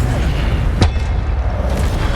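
The Incendio fire spell is cast in Hogwarts Legacy, a loud single whooshing burst of flame over a constant game soundscape.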